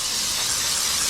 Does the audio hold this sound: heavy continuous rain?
no